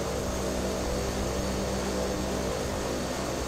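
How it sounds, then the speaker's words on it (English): A Pilatus PC-12 turboprop in the X-Plane flight simulator sits at the end of runway 10 at Portland, its engine a loud, steady, broadband roar with a constant whine throughout. "Nice sound of the turbojet"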